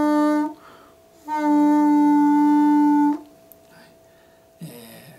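A harmonica holds a strained, muffled hole 2 F note played with a constricted throat, sagging flat in pitch. There is a short tone, then a longer steady one of almost two seconds, and a quieter note follows.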